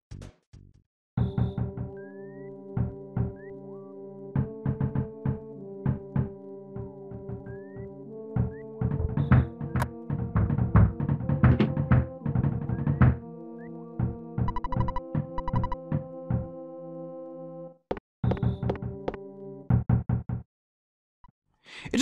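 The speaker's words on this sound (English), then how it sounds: "one of my favorite little things is the sound of Pokey's knock at the beginning of the game" Pokey's knock at the front door in the video game EarthBound, a musical, impatient series of rapping knocks set against chiptune-style tones, loud and continuous for most of the stretch, with a short gap near the end.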